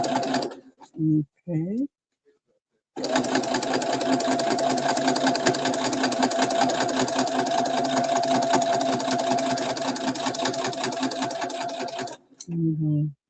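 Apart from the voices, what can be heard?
sewing machine stitching a zipper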